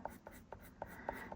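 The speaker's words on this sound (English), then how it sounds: "I'm going to take my green pencil and just color in these leaves" Derwent Inktense green colored pencil scratching across paper as leaves on fall gift tags are colored in, a series of short, crisp strokes in a steady back-and-forth rhythm, close and fairly soft.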